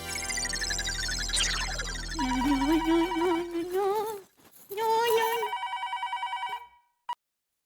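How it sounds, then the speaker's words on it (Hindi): Telephone ringing as a call is placed, a loud electronic ring pattern with repeated tonal bursts that stop and restart, with brief voices and a short pause near the end. "किसको फोन कर रहे हैं? दया को, उसको बताना पड़ेगा ना"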